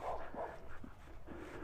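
Dogs behind a fence at a residential estate give a few short barks, a few yips, and some whimpers. They sound somewhat distant under outdoor background noise.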